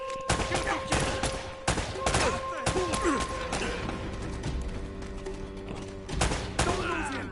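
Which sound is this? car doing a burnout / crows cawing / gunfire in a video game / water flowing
gunfire in a video game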